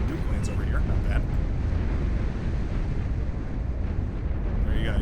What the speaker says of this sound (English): nuke lands over here